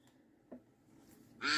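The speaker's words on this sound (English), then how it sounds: "we're going to hear duck quacking all throughout our breaks tonight" A duck quacks once, a short, bright nasal call bursting in at the very end after near-silence broken by a faint click.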